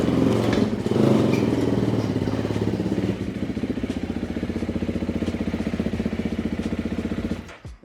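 A dirt bike engine revs hard while the bike is ridden up onto a truck, then settles into a loud, close, rapid chugging idle that cuts off abruptly at the end.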